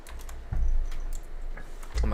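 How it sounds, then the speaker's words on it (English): A cat smacks a computer keyboard, sending out quick irregular clusters of key clatter with a couple of heavier thumps, close to the microphone, while a voice is faintly present. "my cat's smacking the hell out of my keyboard"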